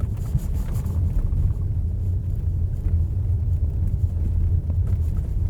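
A Lexus RX 450h+ plug-in hybrid rolls over a 30 km/h speed bump on uneven pavement, heard from inside the cabin as a loud, steady low rumble with muffled road noise and no distinct jolt or knock.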